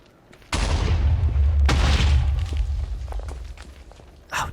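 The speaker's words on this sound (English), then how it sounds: "we will light it up, and then we will back away, hopefully getting a good view of, well, what should be a pretty sweet explosion" A TNT explosion in Minecraft, set off while mining for netherite: a sudden loud boom with a rumbling tail, then a second blast soon after, both fading slowly, with a brief clatter near the end.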